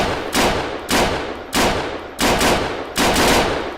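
Five loud, close bursts of automatic carbine fire from an AUG in the Arma 3 video game, each a dense rattling volley about half a second long, separated by short pauses.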